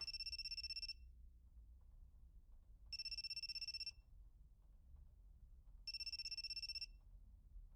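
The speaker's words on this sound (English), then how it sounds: "There's an incoming call from God." A phone in the video game You and Me and Her rings in three evenly spaced bursts of an electronic trilling ringtone, each about a second long, with quiet low background hum between rings.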